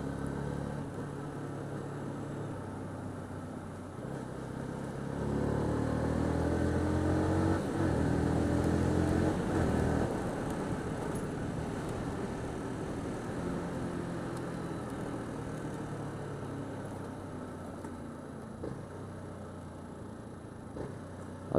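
A Yamaha YZF R125, a 125 cc sport bike, drones steadily while being ridden, engine note rising as it accelerates midway, then settling into a steady cruise over wind noise, moderately faint.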